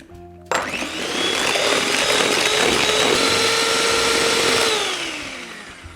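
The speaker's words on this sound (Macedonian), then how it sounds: "многу амбициозно трнав со маталката очигледно" Electric hand mixer whisking brown sugar in a bowl, switching on abruptly and running as a loud, steady whirring drone with a slight pitch drop near the end, close up, no voices.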